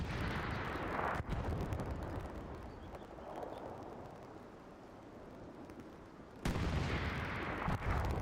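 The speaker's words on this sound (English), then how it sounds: "This tank is taking some fire now." Gunfire and shell impacts hammer a Sherman tank in Hell Let Loose, a dense, continuous rumble of explosions and shots with sharp louder bursts near the start and end, no voices.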